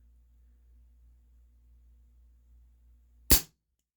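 A single sharp shot from a Remington 1875 CO2 revolver cracks out near the end after a low steady hum, close and loud, then cuts to silence.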